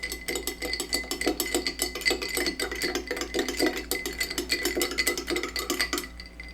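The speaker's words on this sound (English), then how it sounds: "You can just go ahead and give it a stir." Ice rattles in a glass of iced coffee as it is stirred, a steady, quick run of close clinks and knocks that fades out at the end.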